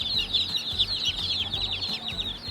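A box of newly hatched baby chicks, including buff Orpington and meat chicks, cheeping constantly in a dense, overlapping high chorus close by, with soft low rustling beneath.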